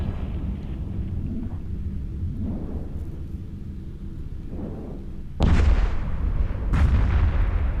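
Turrets and missiles fire in the space game EVE Echoes as deep rumbling booms over a constant low drone, with heavy blasts hitting hard later on, loud and close.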